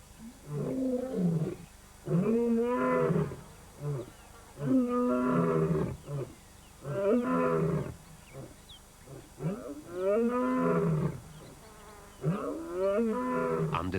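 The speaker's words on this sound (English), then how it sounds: "At Pride Rock, the Pride males roar to proclaim their ownership of the territory." Pride male lions roaring at Pride Rock to claim their territory, a series of deep, loud, drawn-out roars repeating in a steady rhythm and close by, with no other voices.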